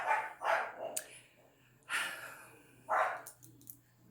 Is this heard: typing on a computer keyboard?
no